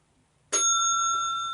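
A single sharp ring of a bicycle-style bell strikes once, then its bright metallic tone hangs and slowly decays, loud and close against near silence, with no voices.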